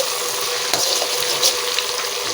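Ginger sautéing in margarine in a home kitchen pan, a steady close sizzle with occasional scraping stirs and small clinks, no talking over it.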